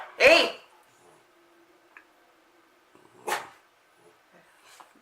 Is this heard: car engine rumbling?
no